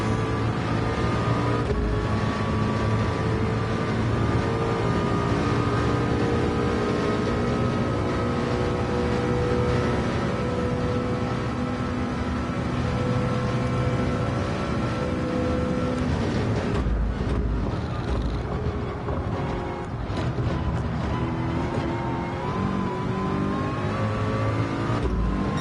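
Race cars roar past in a PSVR2 Le Mans endurance racing game, a continuous loud engine drone with shifting revs, passing cars and a brief dip in the sound partway through, heard without talk.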